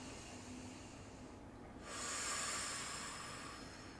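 One long, steady exhale during a lying range-of-motion stretch, a soft breathy hiss that starts midway and carries on for a couple of seconds, close and fairly quiet.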